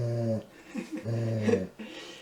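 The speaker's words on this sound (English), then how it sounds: "And this is my office dog. Jack the grumpiness." Jack, a grumpy office dog, lets out low, rumbling growls in a few close bursts with short breaks between them, loud and alone without any talk.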